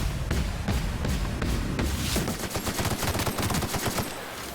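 A legendary assault rifle fires rapid bursts in The Outer Worlds while fighting Mantiqueens, loud repeated shots that speed into a dense stream of automatic fire.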